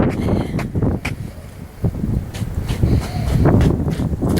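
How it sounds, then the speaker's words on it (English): Gusty wind blowing across a yard outdoors, a steady broadband rush buffeting the microphone and rising toward the end, with faint rustling and a few soft knocks mixed in. "I'm not going to be able to do much out here with this wind"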